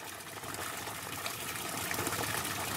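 Water pours steadily from a spout at the Boru Purbatambak traditional bathing place, a constant close gushing splash with no pauses or talking.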